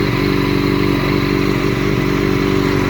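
A 2011 Yamaha FZ8 motorcycle idles steadily close to the mic, a loud, even engine drone with a fast low pulsing and no revving or talking.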